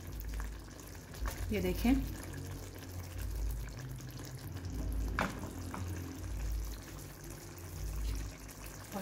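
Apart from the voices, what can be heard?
kofta meatballs cooking in a pot being shaken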